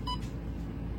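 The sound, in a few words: alarm clock beep accidentally activated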